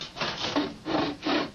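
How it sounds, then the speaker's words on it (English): A hand saw cuts through wood in three rasping strokes, each a broad scraping burst with short pauses between, close and moderately loud. "I'm going to saw a little bit"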